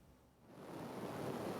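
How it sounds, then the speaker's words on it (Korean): Sea waves wash and rush as dozens of yachts cut through them on a clear day, a soft wind-blown surge that swells in loudness without voices. "요트 수십 척이 파도를 헤치며 달립니다."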